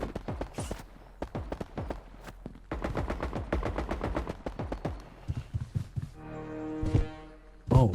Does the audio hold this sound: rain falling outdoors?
no